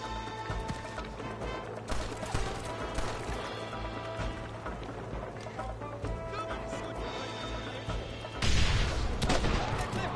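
Gunfire in a video game battle as enemies shoot down from above during an assault on Fort Mercer, a dense fusillade of rapid shots with crashing impacts over game music and effects, rising louder and harsher near the end.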